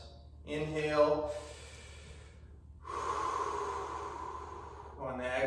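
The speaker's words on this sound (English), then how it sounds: "taking deep breaths. Inhale." Slow, deep breathing during a stretching exercise, with long audible inhales and exhales repeating close to the microphone and no talking.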